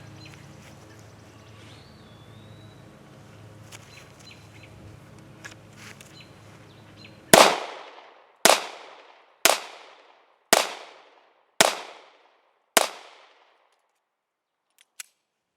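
Six sharp gunshots from a Sig Sauer P938 single-action pistol fired outdoors at a steady pace, each crack loud and close with a short ringing decay, following a quiet stretch of faint birdsong and ambient rustle.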